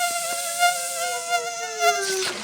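Air blown into a punctured work glove escapes as a thin, steady whistling hiss with a gliding tone that slowly drops in pitch, lasting about two seconds at moderate volume with no talk over it.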